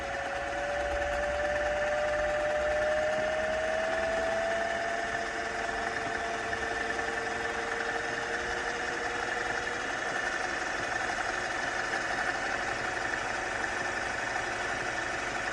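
A Singer 401-A gear-drive sewing machine with a drop-in bobbin runs continuously in an even, smooth mechanical hum with a steady, rapid stitching rhythm, close and unbroken.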